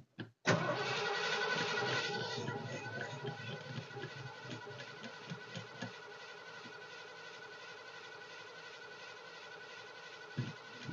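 A 1988 Ford F-350 truck engine cranks loudly up close for about a second and a half, nearly catches, then sputters and fades into a weak rough idle that runs on to the end, with a thump near the close.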